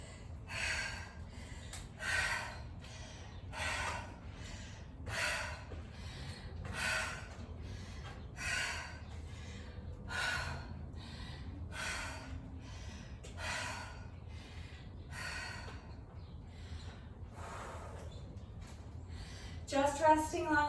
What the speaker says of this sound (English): I feel like I slowed down my breathing a little bit.